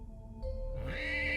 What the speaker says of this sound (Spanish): comencé a escuchar el relinchar de un caballo